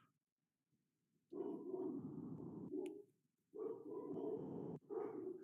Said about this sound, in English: Dogs are going to go crazy a little bit.